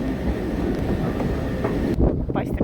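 A Deutsche Bahn train at Berlin Südkreuz station gives off a steady, loud rumble with wind buffeting the microphone, then the noise thins out near the end as the passing sound changes.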